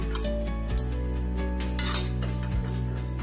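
A spoon scrapes and clinks against a pan as fried bitter gourd masala is stirred, with intermittent metallic taps over a steady low background hum, close and moderately loud.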